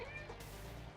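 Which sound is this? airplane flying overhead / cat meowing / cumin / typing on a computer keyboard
cat meowing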